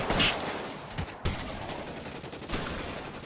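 Gunfire in L.A. Noire: several close, sharp shots in quick irregular succession over a noisy background.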